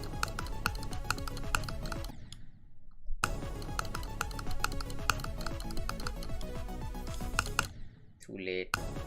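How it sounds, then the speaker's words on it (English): Forceful clicking during a Geometry Dash session, quick repeated clicks blended with pounding game music, dropping out briefly twice, with a short vocal sound near the end. "Stop clicking so hard."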